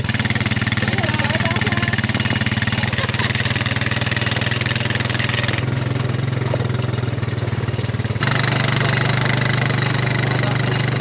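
A quad ATV engine runs steadily while pulling a wagon on a farm during a harvest, a loud continuous drone that shifts pitch partway through, with faint talk beneath.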